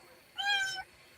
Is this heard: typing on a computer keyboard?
no